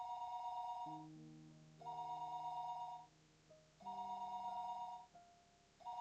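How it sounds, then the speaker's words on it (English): An old-style telephone rings downstairs in the visual novel Higurashi, with repeated electronic ring bursts in a steady rhythm and calm background music underneath, no voices. "The phone rang downstairs noisily."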